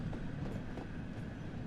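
An LMS Jubilee class steam locomotive in Train Sim World gives a steady, dense rumble of rolling train noise with a faint rhythmic clatter, continuous and fairly close.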